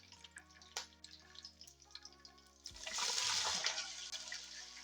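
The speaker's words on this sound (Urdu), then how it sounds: "اب ہم اس میں پانی شامل کریں گے۔" Water poured into a cooking pot holding hot oil, cumin and cloves for dal chawal rice: a loud, steady splashing gush starts partway through and continues to the end, with soft background music playing before it.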